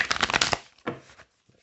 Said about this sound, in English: let's give it a good shuffle